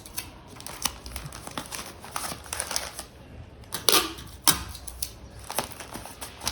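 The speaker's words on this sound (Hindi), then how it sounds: "इसको भी हम थोड़ा सा टेप लगा दें।" Packing tape is pulled and pressed onto a courier parcel holding an Adenium plant, heard as irregular crinkling, sharp tape rips and patting sounds at close range, with no speech.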